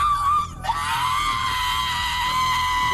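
A woman screams loudly and continuously during a police arrest, a sustained, strained, high-pitched cry that cuts off briefly and then carries on at full volume.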